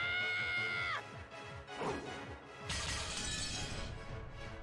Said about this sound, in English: it was the sound of breaking glass